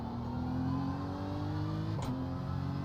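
McLaren race car engine in a racing sim during a 12-hour endurance practice, steady droning engine hum with a brief pitch sweep as another car closes in, continuous and moderately loud.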